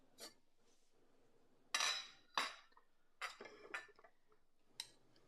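A spoon handled against dishes and utensils, several sharp separate clinks and clatters with quiet gaps between them, close and fairly soft.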